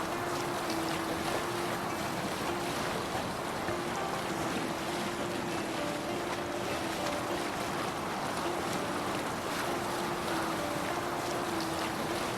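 Viking longship sailing over open sea in the game Assassin's Creed Valhalla: steady wash of waves and wind noise across the whole stretch, with a faint low tonal drone beneath, no talk.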